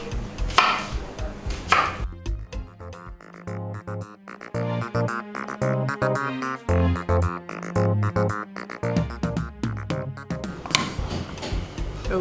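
A knife chops a washed onion on a cutting board for a Nigerian Nupe dish, quick irregular thuds running steadily with short pauses.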